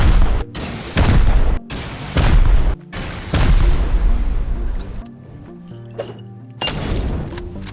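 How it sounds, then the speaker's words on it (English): Rockets explode against a small coastal base during a raid in a survival video game, a series of heavy booms in quick succession with brief gaps, loud and close, followed by rumbling debris. "I decided to take some of the rockets I got from the raid and go raid a small base on the coast"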